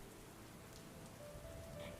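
Rain falls in a steady, soft patter of drops on a surface, faint and continuous over a moment.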